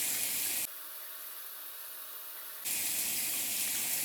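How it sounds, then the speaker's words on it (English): Water runs from a sink faucet during face washing, a steady hiss that is loud at first, drops lower and muffled for about two seconds, then comes back at full strength. "you guys are gonna be watching me away from my sink wash my face"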